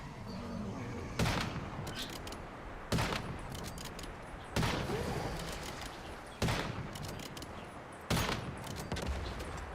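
Bursts of gunfire from the video game Once Human, about five loud salvos spaced roughly every one to two seconds over a steady background of game noise.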